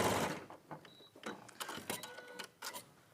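A sewing machine stitches fabric pieces together in short clattering bursts with brief pauses between runs, close and fairly quiet, with no voices.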